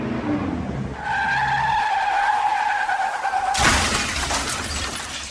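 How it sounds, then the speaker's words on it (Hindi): A car skids past at high speed in a Hindi drama scene, a sustained tonal tire squeal for a few seconds ending in a loud crash-like burst of broadband noise. "पता नहीं लोग कैसे गाड़ी चलाते हैं, वो भी इतने स्पीड में"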